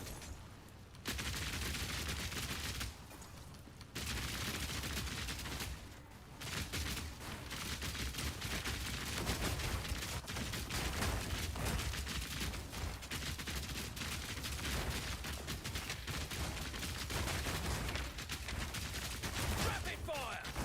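Rapid-fire crossbow shots in Path of Exile 2, a dense stream of quick sharp shots in sustained bursts with brief pauses, loud and continuous, with faint game effects beneath.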